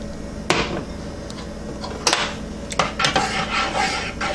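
Egg being mixed into egg lemon soup with a utensil: close, rough stirring and scraping against the pot with a few sharp knocks and clinks, no talk.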